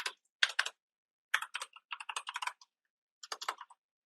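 Bursts of fast, crisp clicking from typing on a computer keyboard, close and fairly quiet, in short irregular runs separated by brief silences.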